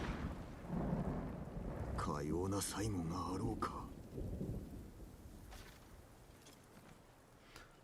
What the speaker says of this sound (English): Or, like, dang, getting hit by lightning.